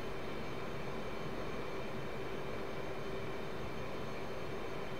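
Steady broadband roar of an F/A-18C Hornet jet's engines on a long landing approach with crosswind in the DCS flight simulator, a constant drone with a faint tonal hum, heard alone at moderate level.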